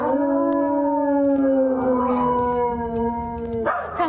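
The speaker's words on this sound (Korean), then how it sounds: "하울링이 이 정도는 돼야지" Two dogs howl together in long, sustained, slowly falling tones that overlap in harmony, loud and close, with a sharper yip-like rise at the very end; no talking.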